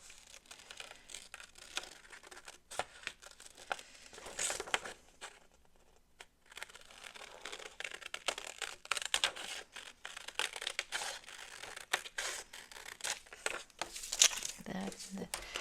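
Paper being kiss cut for a collage, close soft crinkling, scratching and small tearing sounds in irregular bursts, with a brief quiet gap midway.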